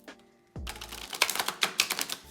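Tarot cards being shuffled by hand, a soft thump followed by a quick run of crisp riffling flicks, close and fairly quiet, with no talk.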